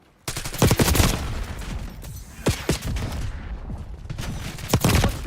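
Rapid bursts of AK rifle fire in the Black Ops 6 shooter game, loud and close, several fusillades of automatic shots separated by short pauses, with faint voices briefly in the mix.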